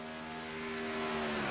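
Race truck engine from a racing video game, the number 63 truck on a warm-up lap at Kansas, a steady droning hum with tonal whine that swells slightly louder over the short stretch, with no talk.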